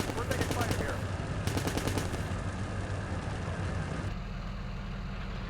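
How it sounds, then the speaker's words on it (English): Gunfire in the tank simulator Steel Beasts Pro PE, rapid bursts of automatic fire with sharp repeated reports over a rumbling engine drone, sustained for several seconds then cutting off. "I mean, he's shooting indirect at me"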